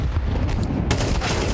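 Counter-Strike 2 pistol fire in a Heroic vs 3DMAX match at IEM Cologne 2024, dense loud gunshots and booms crowding together with no pause.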